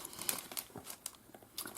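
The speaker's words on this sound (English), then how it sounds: "I just placed those in a nice plastic bag to keep them safe" Soft crinkling of a plastic bag being handled for paper-craft embellishments like pearl and flat-back hearts, a quiet irregular series of crackles and rustles up close, with no talking.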